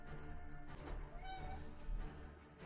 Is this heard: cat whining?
yes